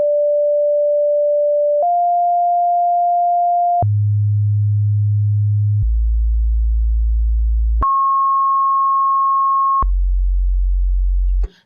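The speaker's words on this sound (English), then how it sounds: "there is a random sine wave here that slides to random pitches" A Logic ES2 synth held on one A note, its pure sine tone leaping between random pitches through an LFO, stepping every two seconds between high and low, loud and steady.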